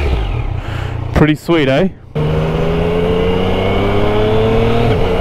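A new Yamaha MT-09 with its stock exhaust revs in short, restrained blips during break-in, then settles into a loud steady idle, with a rider talking briefly between revs.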